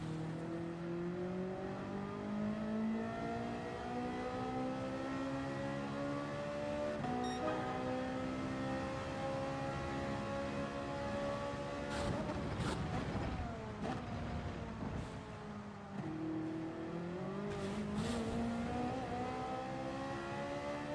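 Race cars in Gran Turismo 7 on a wet Red Bull Ring, with engines whining and climbing through the gears, several shifts and dips, and the hiss of spray and tires under a continuous game mix; no one speaks.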